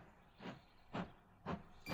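Train sounds in the visual novel game Code: Realize: three evenly spaced hissing, steam-like bursts over a low rumbling background, fairly faint and with no voices.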